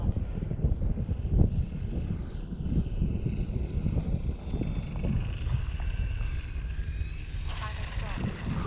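A Valiant model airplane taking off into the wind, its engine droning steadily with wind buffeting the microphone and a thin whine rising as it climbs away.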